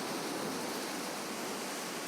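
Ocean waves washing against the shore make a soft, steady broadband rush of surf, continuous and fairly quiet, with no voices.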